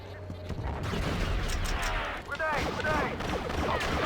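Blaster fire in the 2004 video game Star Wars: Battlefront, dense overlapping shots and laser zaps in a continuous battle din, loud and close, with a voice faintly mixed in.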